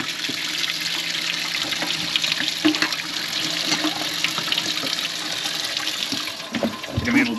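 Water runs steadily through RV plumbing from the hot water tank and cold line, hissing and gurgling continuously as it drains, with brief louder splashes near the end.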